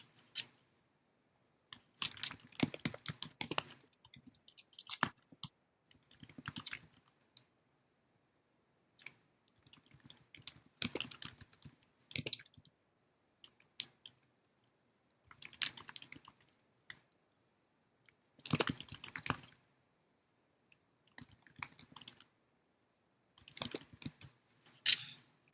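Computer keyboard typing comes in quiet bursts of rapid clicks separated by pauses, close and soft, with no voices.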